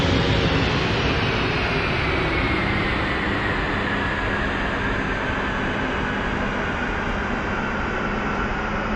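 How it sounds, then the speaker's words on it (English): An A-10C jet's engines shut down in the DCS World flight simulator, a loud steady roar with a whine that slowly falls in pitch, heard alone without talking. "And let's get these engines off."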